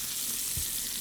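Meatballs sizzle and fry in a pan on medium-high heat, a steady bright crackle that holds at the same level for the whole moment, close up, with no one talking.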